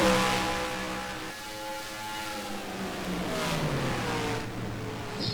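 Stock cars battle for the lead in a Cup playoff elimination race at Charlotte in a racing game, with loud, high-revving engines whining and shifting pitch as cars pass close.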